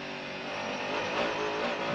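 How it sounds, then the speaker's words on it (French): Onboard a Mercedes race car at Le Mans near Tertre Rouge in 1998: a continuous loud engine roar with rising and falling tonal whine as the car accelerates, filling the whole stretch with no voices. "La Mercedes qui s'engage maintenant dans la ligne droite des Hunaudières"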